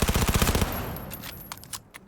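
Rapid automatic gunfire in the video game Cyberpunk 2077, a dense loud burst of shots at the start that breaks off into scattered fainter cracks and rumble.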